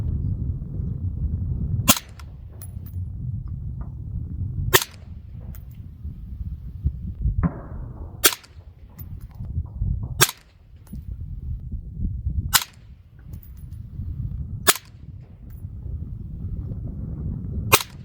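Modern Gordon 14.5 and 12.5 rifles fire a volley of single sharp, loud shots spaced every two to three seconds outdoors over a steady low background rumble, with no talking.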